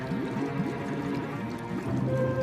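Water streams steadily out of an overflowing gutter, a continuous moderate pouring and trickling flow heard close by without interruption.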